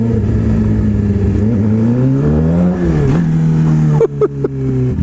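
A bike ridden around a parking lot, with a loud, steady motor drone whose pitch rises and falls over several seconds before a few sharp breaks near the end.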